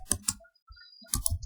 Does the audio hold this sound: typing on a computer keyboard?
yes